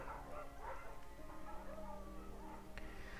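Bucket the dog barks and yips a few times in Firewatch, faint and at some distance, over a low steady ambient hum.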